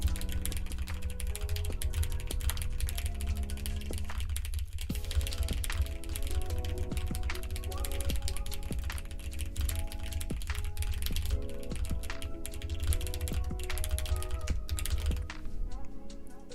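Rapid, steady clicking of a computer keyboard being typed on continues throughout, mixed under constant music.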